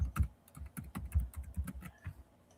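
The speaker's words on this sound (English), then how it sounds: "My typing is so atrocious" Fingers tap quickly on a computer keyboard, with uneven bursts of crisp, close keystrokes and short pauses between them.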